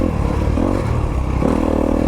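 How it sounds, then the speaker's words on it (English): A 2022 Honda CRF250RX dirt bike engine running steadily and loud, a continuous throbbing drone with brief revs rising near the start and again past the midpoint. "listen to that bike"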